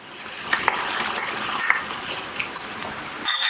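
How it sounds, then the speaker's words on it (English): Brown rice and kale being stirred into a wet mushroom stuffing mixture in a pan, with a steady soft sizzle and a few sharp clinks of a utensil against the pan, close and alone. "So now the kale and the brown rice is going to mix all through the mushroom mixture."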